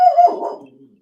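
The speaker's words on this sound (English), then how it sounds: "Dog's going crazy." A dog gives a single short, loud bark close by that trails off into a fading whine.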